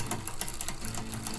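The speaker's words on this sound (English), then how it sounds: "if you're riding along and your rear derailleur sounds like this" A badly tuned rear derailleur on a bicycle chatters while riding, a fast, even, faint ticking that repeats steadily throughout.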